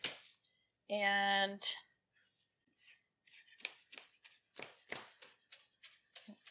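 Fresh tomatoes are chopped with a knife for tomato basil soup. A steady series of light blade taps on a board follows a brief tone, with a short spoken word in between.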